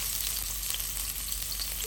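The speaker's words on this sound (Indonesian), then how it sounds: "Kita tumis dulu bawang merah" Shallots sautéing in hot leftover frying oil, a steady, dense, loud sizzle that does not break, with no voices over it.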